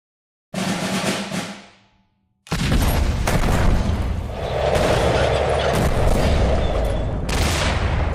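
Tanks attacking in the digital card game KARDS: a short booming gunfire burst fades out, then after a brief gap a sustained, loud barrage of rolling blasts and rapid fire runs to the end, with no voices.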